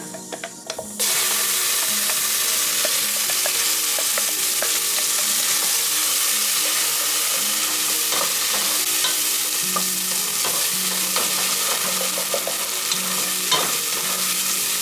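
Ground masala frying in oil for a navratan korma, a loud close sizzle under constant stirring with a spoon scraping the pan, starting abruptly after a brief quiet opening and continuing steadily.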